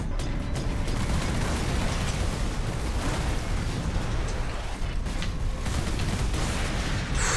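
Turrets exploding in the Warhammer 40K Space Marine video game: a dense, continuous roar of blasts and booms with crackling bursts throughout, loud and unbroken.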